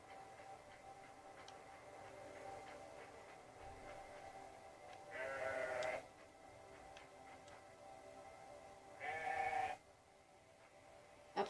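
A sheep in a video game gives two short bleats several seconds apart over a quiet ticking, droning game soundtrack, each call moderately loud and the second slightly longer.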